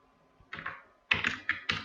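Several quick keystrokes on a computer keyboard, a short burst after one lone tap, close and fairly quiet with no voices.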